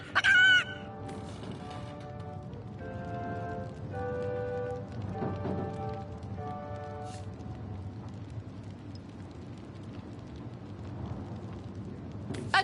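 A chicken in the fantasy role-playing game Divinity: Original Sin clucks in a few quick bursts near the start, followed by a steady soft wash of rain-like ambience.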